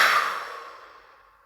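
A single forceful exhale during a guided sophrology breathing exercise, breathy and close, strongest at the start and fading smoothly over about a second and a half, with no talking.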